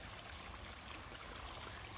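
A small creek at a campsite flows steadily, giving a soft, even rush and trickle of water with no voices.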